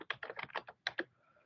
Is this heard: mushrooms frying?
no